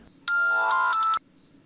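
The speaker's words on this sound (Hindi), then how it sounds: "अवनी का फोन इस टाइम पे?" Phone ringtone in a Hindi TV drama scene, a single short bright melodic chime of a few quick notes lasting about a second, clear and alone against quiet background.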